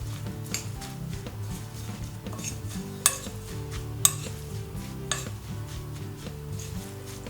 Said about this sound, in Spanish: Y revolvemos bien.